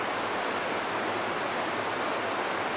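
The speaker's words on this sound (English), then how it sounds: "Hopefully the river sound isn't too loud for my voice." A river flowing steadily, a broad, constant rushing wash of water that fills the scene, loud and close, with no voice over it.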